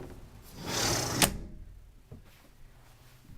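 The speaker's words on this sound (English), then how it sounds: "Let me close the window" A house window slides shut with a rising rush that ends in one sharp clack of the latch, then a couple of small thuds and quiet room tone.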